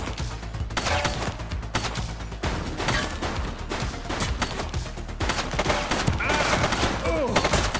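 Rapid bursts of gunfire from a police video game, dense overlapping shots and impacts at loud, steady intensity, with game voices shouting in the background.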